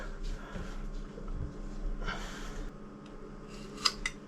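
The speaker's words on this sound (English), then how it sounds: "Now I'm just going to cut butt joints on here, no exotic" Faint snips cut butt joints into packing ring material aboard a wooden boat under restoration, with a few sharper cuts near the end over a low, steady background hum.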